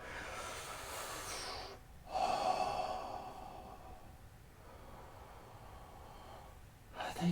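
Slow, deep breaths from someone resting in child's pose during a yoga session, with a soft inhale and a longer sighing exhale, quiet and close, alone with no talking.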